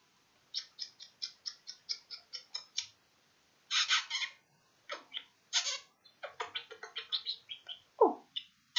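A pet bird chirps close by in quick, bright bursts and short trills, repeated many times with brief pauses, with no talk over it.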